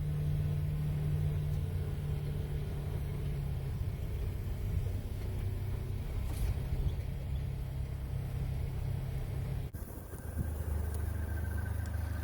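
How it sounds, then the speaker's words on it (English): Engine of a Polaris Ranger 1000XP utility vehicle climbing a trail hill, a steady close rumbling drone with shifting load that changes pitch near the end, with no talk. "The Polaris Ranger has a lot of power and is able to get up hills without any problem."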